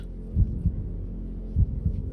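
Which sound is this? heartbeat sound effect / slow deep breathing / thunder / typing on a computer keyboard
heartbeat sound effect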